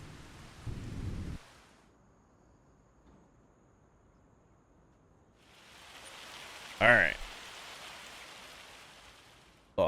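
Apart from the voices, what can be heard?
rain and hailstorm in Farming Simulator 25 video game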